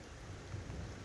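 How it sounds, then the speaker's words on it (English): Rain pattering steadily on an outdoor surface during a cold downpour, with a low rumbling wash underneath, continuous and fairly quiet throughout with no voices. "I'm getting rained on."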